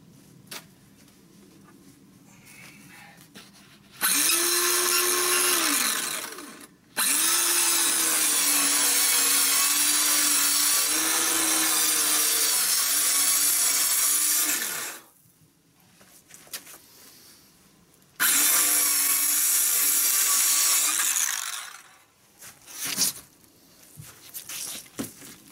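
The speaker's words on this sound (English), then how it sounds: "I use a circular saw for that" A circular saw cuts through insulation panels for a dog house, whining loudly in two long sustained passes with a brief pause between, then stopping, with a short spin-down and a few handling noises after.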